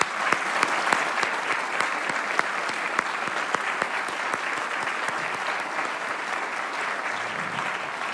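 A seated audience at a corporate leadership talk applauds warmly to welcome a guest, a dense, steady clapping that holds evenly throughout with a few sharper individual claps standing out.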